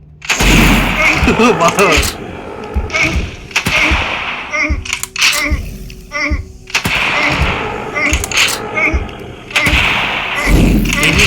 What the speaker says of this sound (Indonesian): udah saatnya pakai sniper rifle